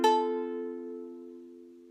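A single ukulele chord strummed once with a finger pressed hard on the fourth string's fret, ringing out clearly and fading slowly over about two seconds, alone.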